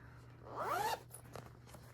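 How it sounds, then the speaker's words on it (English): A zipper on a cross-stitch project bag is drawn in one quick, close pull, followed by a few faint rustles in a quiet room. "I like the sound of the zippers"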